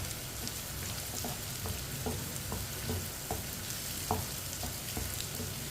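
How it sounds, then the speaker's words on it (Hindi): Taro (arbi) masala frying over a medium flame, a constant dense sizzle with soft regular taps and scrapes of a spoon stirring through it, close and even in level. "अब इसे 2-3 मिनट के लिए फ्राई कर लेंगे इसी तरह चम्मच चलाते हुए।"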